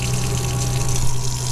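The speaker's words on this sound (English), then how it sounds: "Yeah, the pump is kind of loud" A 12-volt water pump in a converted camper van hums loudly and steadily, with a low tonal drone, while water flows continuously from the faucet over the whole stretch, with no talking.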